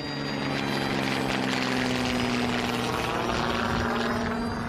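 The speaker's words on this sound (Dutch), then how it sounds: "vanuit de lucht bewees een vliegtuig van de stichting Wings to Victory de laatste eer" A Wings to Victory airplane passing overhead at a memorial, a loud steady propeller engine drone with a low hum that stays strong throughout.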